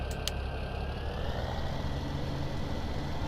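A tractor engine in Farming Simulator 17 idles as a steady low drone, running alone without voices and holding an even level throughout.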